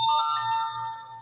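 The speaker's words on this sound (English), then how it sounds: "Well, that is my phone going off there that you hear in the background." A phone ringtone plays steady sustained electronic tones at moderate volume in the background, with no voices over it.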